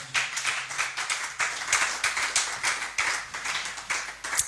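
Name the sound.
congregation applauding the word of the Lord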